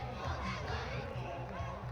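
A large crowd at a high school football game between Jesuit and Folsom rumbles steadily, with a faint rhythmic chant pulsing under the noise throughout and no clear talk on top.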